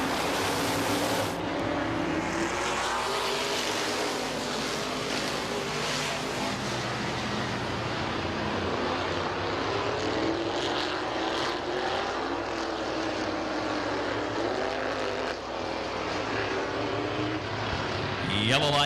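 Open modified race cars rumble and roar around Midvale Speedway during a heat race, a dense, steady engine wall that stays loud and close throughout, with faint speech mixed in.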